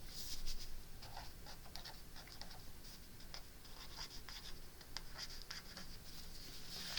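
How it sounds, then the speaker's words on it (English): A teacher writes on a classroom board, a quiet run of short scratchy strokes and taps in an irregular rhythm, faint and alone. "I've got to write down right now and remind myself."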